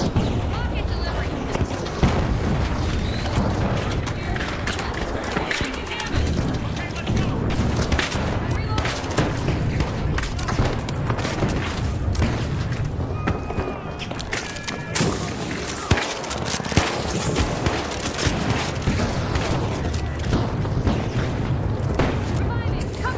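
Video-game rocket explosions and heavy gunfire boom and crackle in dense, repeated bursts. The loud, chaotic battle noise continues throughout, with voices heard amid the blasts.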